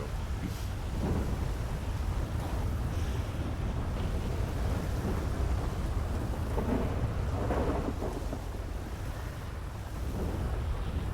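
A thunderstorm with rain in the video game NewDay RP fills the scene with dense, steady rain hiss and low rolling rumbles, a loud continuous wash with a few stronger thunder swells, no voices present.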